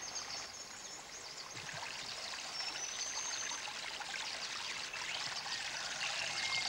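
The Narcissus River flowing beside a bush walking track, a soft steady trickle and babble of water, faint and continuous with no voices.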